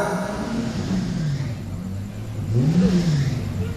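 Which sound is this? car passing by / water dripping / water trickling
car passing by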